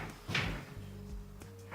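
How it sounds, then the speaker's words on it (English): A plastic Keter Artisan 9x7 shed door is pulled shut from the inside, giving a soft scrape, a dull closing knock and a faint rattle, quiet and close with no talking. "you have to just kind of pull the door shut"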